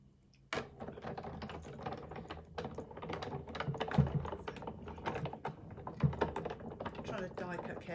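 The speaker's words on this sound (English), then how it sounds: "I'm trying to die cut carefully now" A crafting die cutting machine cuts paper shapes with a steady run of close, rapid clicking and ratcheting taps, with a few heavier thunks along the way and a voice talking now and then.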